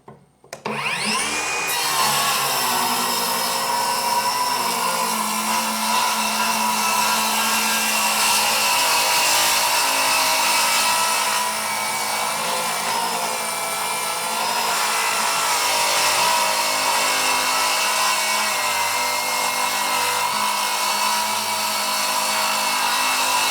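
A Dongcheng DCMY02-185 cordless 7-inch circular saw rips steadily through mahogany, starting up sharply and then holding a loud, continuous whining cut for over twenty seconds, close and without speech.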